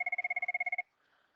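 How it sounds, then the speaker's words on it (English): Telephone ringing with a rapid electronic trill of about a dozen even pulses, clear and close, then cutting off into near silence. "I'm getting a phone call."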